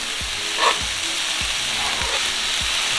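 Shaved steak and onions sizzle steadily on a hot cooking surface while being mixed, with a continuous hiss and periodic scraping strokes from a spatula at a regular rhythm.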